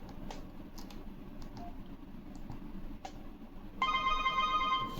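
A Grandstream wireless phone rings for an incoming call, a bright electronic ringtone that starts suddenly and keeps going, after a stretch of quiet room noise with a few faint clicks.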